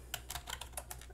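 Quick bursts of keystrokes on a computer keyboard, about eight distinct taps in an uneven rhythm, close and moderately quiet over a low steady hum.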